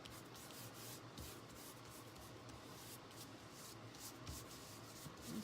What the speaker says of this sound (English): This is another reason why I like rubber cement, is it just rubs off